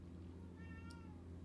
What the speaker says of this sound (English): My cat's yelling at me from somewhere in the house